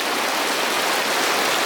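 Steady rain falls throughout, a dense even hiss of drops with no pauses, recorded at an outdoor gathering in Aceh Barat.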